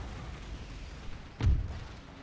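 A single heavy cannon boom from a siege battle in Empire: Total War lands sharply over a low rumbling battlefield background, fading quickly.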